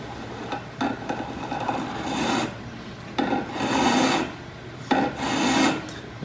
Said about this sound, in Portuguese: agora a lima vai correr dali para frente